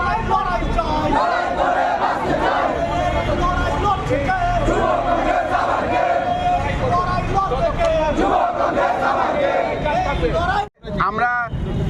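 A large protest march crowd chants slogans against the cancellation of a fire service recruitment process, a loud, dense, continuous wall of voices with a brief dip near the end.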